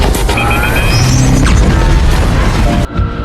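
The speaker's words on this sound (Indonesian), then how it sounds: "mereka berdua terpental keluar penjara oleh bom milik Cable" Cable's bomb goes off in Deadpool 2, blasting two prisoners out of the prison: a loud, dense roar of blast and crashing debris that fills the scene, then cuts off abruptly near the end.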